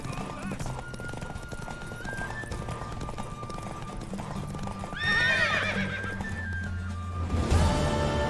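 A horse gallops in the fantasy game The Witcher 3, its hooves clip-clopping steadily, with a loud whinny partway through and a game character's voice at times.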